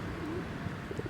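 Pigeons coo softly in a few low, rounded calls, faint and somewhat distant against a steady background hum with no one speaking.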